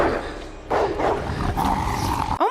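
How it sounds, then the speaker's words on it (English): A rabid dog in a film scene growls and roars with harsh, loud snarls over a dramatic background, with bursts of aggressive vocalizing. "is that a rabid dog?"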